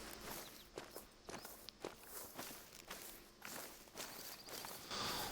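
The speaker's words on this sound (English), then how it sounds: "Did I hear footsteps?" Footsteps crunch along in the hunting video game Hunter Call of the Wild, steady repeated steps over soft ground at a moderate distance, with faint outdoor ambience and no talking.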